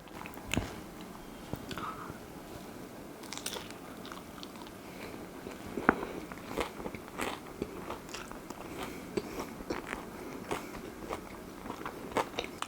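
Crisp crunchy bites into a spring roll followed by close, repeated chewing and crackling, the mouth sounds irregular and near with no talking.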